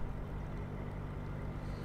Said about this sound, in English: he's driving along at 900 revs, and that's a great engine speed for cruising